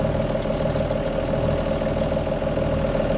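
A yacht engine running in the VR Regatta sailing game makes a steady, close mechanical drone with a constant tonal hum and no change in pitch or loudness.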